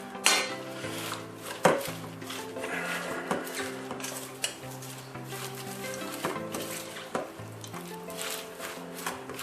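Salad and chicken are tossed and mixed in a bowl, a steady rustling swish with scattered clinks and knocks against the bowl, close and fairly loud, with no talking.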